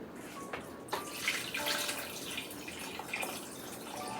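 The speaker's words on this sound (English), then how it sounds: "I am going to add some more liquids to this" Liquid pours into a pot of beef stew being readied for slow oven cooking, a soft continuous splashing and trickling with a few faint clinks, heard close up with no voices.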